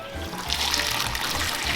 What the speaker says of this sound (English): she's just pouring that on the tamales on the side